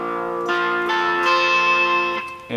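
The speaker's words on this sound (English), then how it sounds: "And it sounds like, it's a very beautiful chord." Clean electric guitar barre chord at the 8th fret, rich and sustained, strummed in a few successive strikes that ring out clearly and alone.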